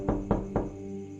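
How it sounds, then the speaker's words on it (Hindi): Three firm knocks land on a door at night, evenly spaced, close and distinct, with no one talking. "थोड़ी देर हुई थी कि दरवाजे पर दस्तक हुई"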